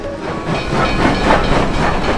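A train runs on rails with a loud, steady rushing rumble and hiss, dense and continuous, with no voices.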